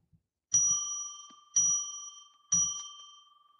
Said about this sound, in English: why don't we just ring our bell 3 times to declare sacred space